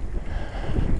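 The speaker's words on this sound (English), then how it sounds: "It's blowier than I thought it was going to be, and I must admit I don't like too much wind" Strong wind buffets the microphone on a bike ride along a country lane on the Somerset Levels, a continuous low rumbling roar with no voices.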